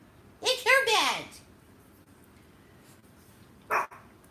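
A dog barking in a short burst of high yelping barks that trail into a whine, then a single sharp bark a few seconds later, close by in a quiet room.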